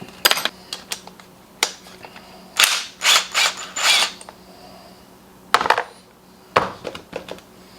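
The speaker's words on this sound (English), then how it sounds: "So let's get the bowl off the bottom." Mechanical clicks, scrapes and rattles of parts being worked loose from the carburetor float bowl on a Homelite 1800W generator, a scattered run of close, sharp taps, then a denser cluster of louder scraping bursts.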